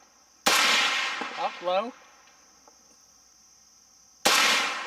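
Gunshots from an Inland M1A1 Paratrooper carbine at an outdoor range: two sharp, loud cracks several seconds apart, each with a ringing tail, and a brief spoken remark between them.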